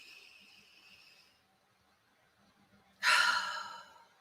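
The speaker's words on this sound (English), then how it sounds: "Deep inhale." A single deep inhale, part of a guided calming breathing exercise, drawn in strongly and close up after a softer breathy stretch, rising sharply and then tapering.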